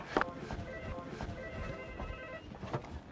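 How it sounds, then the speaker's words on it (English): A telephone rings in a busy hospital ward, its electronic tone repeating at a moderate level over a bustle of background voices and movement. "I need to get that phone."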